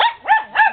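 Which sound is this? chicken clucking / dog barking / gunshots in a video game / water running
dog barking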